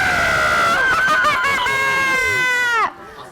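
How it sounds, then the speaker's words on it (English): A crowd at a Christmas Witch book reading and discussion shrieks together like witches, a loud, high, wavering chorus of screams that holds for nearly three seconds and then cuts off abruptly. "Everyone on the count of 3, scream like a witch."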